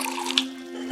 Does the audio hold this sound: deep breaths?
no